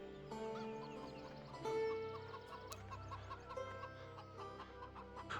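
Chickens of mixed colours cluck steadily in a Farming Simulator 17 farmyard, several birds layering soft overlapping calls over a constant low ambient hum, with one louder clucking burst near the middle.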